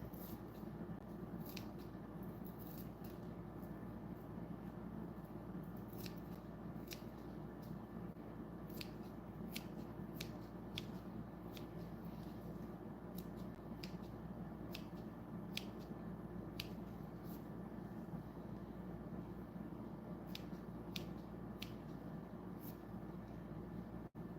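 Intermittent sharp snips of scissors trimming plants scattered over a steady hiss and low background hum, each cut brief and crisp, irregularly spaced and fairly faint.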